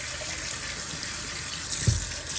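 Steady tap water pours over a washable air filter being rinsed and soaked where oil had been, a continuous close hiss with a brief louder splash near the end.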